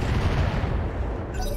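Mech weapons fire in the BattleTech video game as a dense, continuous barrage of overlapping booms and rumbling blasts, loud and unbroken throughout, with missile-like rushes.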